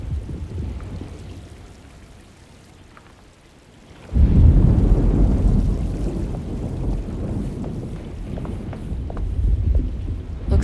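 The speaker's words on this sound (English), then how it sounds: "Looks like a storm's coming." Thunderstorm ambience from the video game Alone in the Dark: a low rumble sets in at about four seconds and keeps rolling, with steady rain hiss that swells toward the end and no voices.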